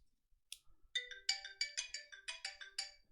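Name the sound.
phone notification as SMS test message arrives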